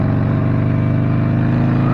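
Motorcycle engine fitted with a brand-new slip-on exhaust, freshly repacked with different packing, idling steadily with a low, even rumble close by throughout.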